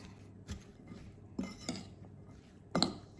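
Salt and coriander are mixed in a bowl, heard as a few sparse clinks and scrapes of a utensil against the dish, quiet and irregular, with no talking.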